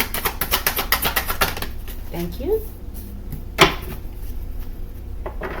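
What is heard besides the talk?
tarot cards being slammed down on a table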